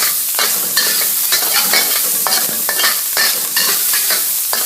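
Cured ham sizzling and frying in a pan, a steady close crackle with frequent scraping stirs of a utensil throughout, no voices.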